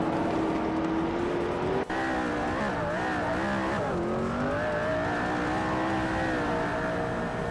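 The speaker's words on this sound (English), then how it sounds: "Jordan F is driving a 2009 Mercedes-Benz SLS AMD" A 2009 Mercedes-Benz SLS AMG race car's engine in a racing video game drones steadily and loudly, with rising and falling revs, one brief dip mid-run, and a constant whine above, along with no talking.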